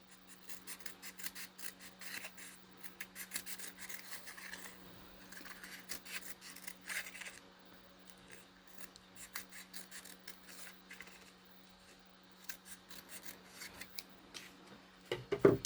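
Scissors make quiet, rapid snipping and rasping cuts through paper in a steady run, soft and close, with a faint background hum beneath.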